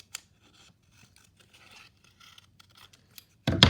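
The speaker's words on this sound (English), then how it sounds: "going to the middle and cutting a piece of cardboard" Scissors snipping through a piece of cardboard, a string of small quiet cuts and scrapes close by, ending in a louder crunching cut.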